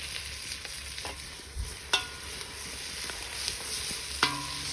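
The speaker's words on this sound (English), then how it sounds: "So tomatoes in, and this also takes the heat out of the pan a bit." Tomatoes are stirred into a hot pan with mussels and pancetta, a soft steady sizzle with a few sharp clicks and knocks of utensils, fairly quiet and close.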